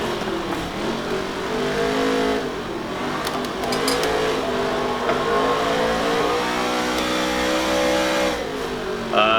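A late-model race car in NASCAR Heat 3 on a dirt track, engine revving loud and close, pitch sweeping up and down through gear changes and corners, with a brief clatter midway and no talk.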